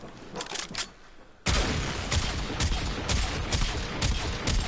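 Rapid automatic fire from the Quartakk weapon in the video game Warframe, fitted with a fire-rate build: a dense, loud, continuous stream of shots after a brief quieter opening burst.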